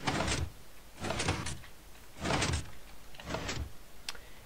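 A code-locked door runs its motorized mechanism four times in a row, each a broad whirring burst of about half a second with short pauses between, followed by a faint click at the end.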